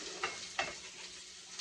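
Cut string beans sizzle faintly in a pan on a home stove, a soft continuous crackle with a couple of sharper stirring clicks near the start.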